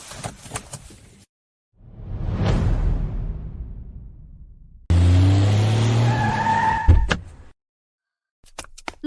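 A car skids hard to a stop, a loud drawn-out tire squeal and rush of engine noise that builds and breaks off, followed by a sharp thump like a door, with brief clatter before and after.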